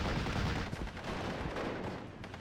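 Bursts of .30 cal machine gun fire from a Stuart tank in the Steel Division: Normandy 44 battle on Omaha, dense rattling shots layered over a rumbling battlefield backdrop, continuous and moderately loud with no talk.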